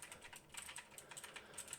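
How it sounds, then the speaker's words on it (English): Rapid, loud clicking keystrokes from a very noisy computer keyboard, typed in a steady irregular patter of sharp taps close to the microphone, with no voice over them. "I can go ahead and demonstrate the keyboard clicking now"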